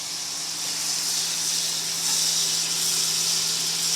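A cooking burner hisses steadily and fairly loudly up close, a constant airy rush with a faint low hum underneath and no voices.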